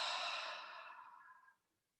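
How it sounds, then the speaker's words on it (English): A slow, soft exhale through the mouth during a meditation breathing exercise, a breathy sigh that fades gradually over about a second and a half into quiet. "Release the tongue as you exhale through the mouth"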